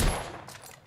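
A loud, sharp burst of gunfire in the video game The Order: 1886, a quick rattling volley that decays over under a second, with no talking.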